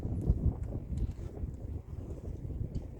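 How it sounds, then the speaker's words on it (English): Wind buffeting a microphone outdoors at a practical shooting training range: low, uneven rumbling thumps and gusts rolling through the whole stretch, close and muffled, with no clear talking. "the wind is picking up and I don't have the mic out here"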